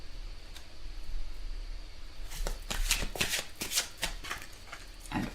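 Tarot cards being shuffled by hand at close range, a crisp run of rapid riffling bursts after a quiet start, ending in a few soft taps as the deck settles.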